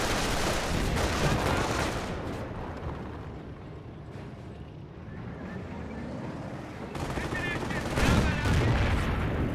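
Rifle fire in the video game Company of Heroes 1 crackles as steady, dense shots inside a loud, busy battle soundscape, with a heavier burst near the end.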